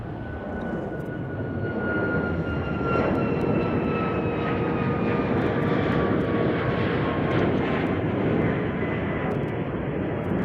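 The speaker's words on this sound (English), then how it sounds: "787-10 Dreamliner" A two-year-old Boeing 787-10 Dreamliner, in from an 8.5-hour flight from Frankfurt, roars loudly at Chicago O'Hare with a broad, steady engine rumble and a high whine that slowly drops in pitch, nearby and constant with no voices.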